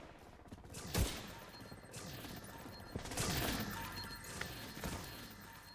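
Turret fire in The Division 2 video game: repeated sharp gunfire bursts with crashing impacts, loud and up close, coming in several rapid volleys over a steady background.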